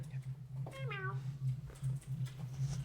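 A pet cat named Griff lets out a single close, clear meow lasting about half a second, set against a steady low electrical hum with no talking.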